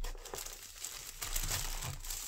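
A plastic bag crinkles and rustles as tape fastening it to a box is peeled away, close and fairly quiet, with a few sharper crackles.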